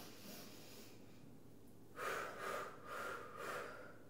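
A woman draws slow breaths in a breathing exercise for pain relief during childbirth, several soft, airy inhalations in a row, close and quiet against a faint background hiss.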